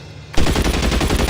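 A sudden burst of rapid automatic gunfire erupts and continues as a dense, loud, rattling stream of shots, close and harsh, with no talking over it.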